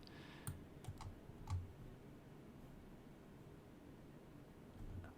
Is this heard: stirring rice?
no